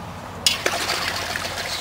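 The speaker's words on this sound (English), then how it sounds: "swish it in the water like you're washing dishes" A cleaned Dungeness crab is swished back and forth in a bucket of water, producing a steady close sloshing and trickling with a couple of sharper splashes near the start.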